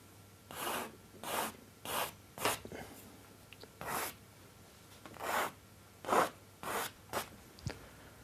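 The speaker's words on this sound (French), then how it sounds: "Donc avec le fusain, je vais dessiner les étoiles pour terminer mon tableau." A stick of charcoal scratches and rubs across a painting as stars are drawn, about a dozen short, separate rasping strokes in an uneven rhythm, close and fairly quiet.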